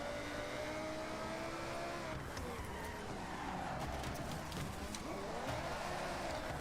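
Ferrari race car engine in a racing video game, a faint, steady whine whose pitch rises and dips with gear changes and throttle, heard continuously at low level without talking.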